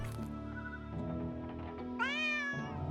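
A cat in the 2D Gothic-style RPG Drova: Forsaken Kin gives a few soft meows over a steady musical background, then a louder, rising, drawn-out meow near the end.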